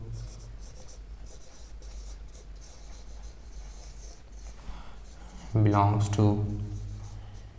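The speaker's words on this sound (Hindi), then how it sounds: "इस आंसर को भी मैं यहीं पे लिख देता हूँ।" A pen writing out an answer during a classroom lesson, a steady soft scratching that runs under continuous talk, with a louder burst of strokes near the end.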